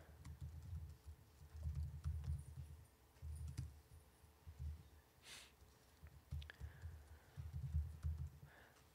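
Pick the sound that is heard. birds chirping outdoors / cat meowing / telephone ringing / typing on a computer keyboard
typing on a computer keyboard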